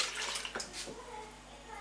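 Tap water running and splashing into a bowl of French bugnes beignet dough, a short close trickle with a brief stronger gush near the middle, in a home kitchen.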